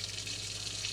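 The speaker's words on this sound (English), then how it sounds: "We've got some running water." Cold water runs steadily from a kitchen sink tap in a camper van, a faint, even hiss with no voices over it.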